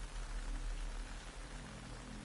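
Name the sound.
rain falling in video game Metal Gear Solid Delta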